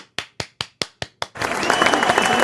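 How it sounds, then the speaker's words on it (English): Six sharp, evenly spaced hand claps ring out alone, then give way to a dense burst of crowd applause that carries on to the end. "Can I just get a round of applause?"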